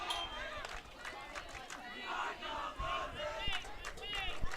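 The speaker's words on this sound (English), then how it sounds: "I don't know what they're chanting over there, nor do I probably want to know what they're chanting over there" A crowd of high school softball fans in the stands chants and yells rhythmically at a distance during a Lufkin Lady Pack versus Huntsville Lady Hornets game, with a continuous babble of voices underneath.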